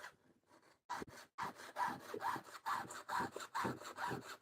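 A machine cuts aluminum in rhythmic rasping strokes, close and steady, about a dozen pulses with no talking.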